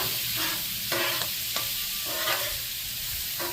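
Sausage and bacon frying on a Blackstone griddle, a dense constant sizzle with scraping and stirring strokes from a spatula breaking through at intervals, close up and without speech.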